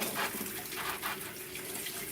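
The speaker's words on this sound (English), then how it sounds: "Rinse this off." Tap water runs steadily into a kitchen sink as something is rinsed under it, a close, continuous splashing rush with slight fluctuations and no talking.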